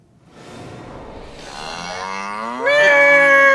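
Red heifers low at ancient Shiloh, a drawn-out moo that swells from a breathy rumble into a loud, sustained tonal call, close by and alone.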